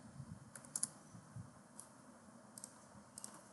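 Someone types Kali Linux commands on a computer keyboard, with sparse quiet keystrokes and a few quick clustered taps over a faint background hiss.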